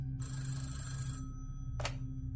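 A telephone bell rings in a long burst followed by a short second ring, clear and close over a steady low hum, with no voices.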